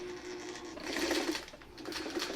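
Sewing machine running a quarter-inch seam with a quarter-inch presser foot, close and steady, a fast mechanical whir with a rapid stitching clatter that swells slightly midway.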